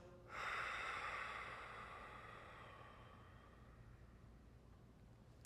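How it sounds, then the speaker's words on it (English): A single long restricted Ujjayi breath during a beginner yoga flow, a soft rushing, hissing airflow that swells near the start and slowly fades over several seconds, close and alone with no talking. "I want to use Ujjayi breath. So we'll inhale and exhale, restricting the breath inside of your body."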